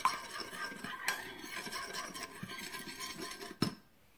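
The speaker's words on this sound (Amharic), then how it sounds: "አማስለዋለሁ" A spoon stirs a salt and garlic mixture for no-butter, no-cheese garlic bread, giving faint, steady scraping and light clinks against the bowl, followed by one sharper knock near the end.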